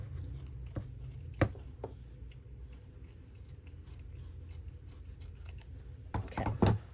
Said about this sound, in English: Okay, so I'm going to cut it.